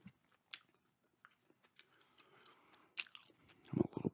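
Close, soft chewing of gum with moist smacks and squishy clicks, sparse at first and then denser and louder near the end, with no talking.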